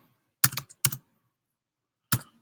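Fingers tapping a computer keyboard in three short bursts of clicks, two close together then one after a pause, close and crisp with no talking.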